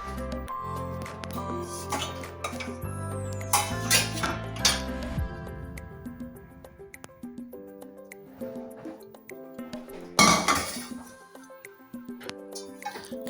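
Metal pots and pans clink and clatter as they are handled beside an Ariston dishwasher, with ringing tones, scattered knocks and a louder bang near the end.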